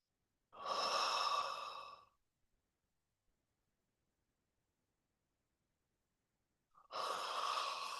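Slow, deep breaths during a guided meditation: a long audible inhale or exhale near the mic, a stretch of silence, then another breath beginning, calm and unhurried with no talking.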